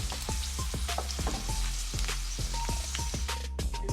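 Garlic frying golden brown in a pan over low flame, a soft continuous sizzle broken by regular tapping and scraping of a utensil.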